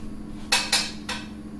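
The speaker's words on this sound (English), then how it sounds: "So get my pan on the heat there." A metal pan is set down on a kitchen stove, giving three quick clanking metallic knocks over a low steady hum.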